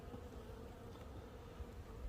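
Honeybees buzz inside a hive during a February winter inspection, a steady dense drone close by with no talking.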